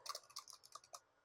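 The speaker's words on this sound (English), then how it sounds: "I'm going to go type on the laptop keyboard" Quick, irregular clicks of typing on a laptop keyboard, about a dozen light keystrokes over a second, close and fairly quiet.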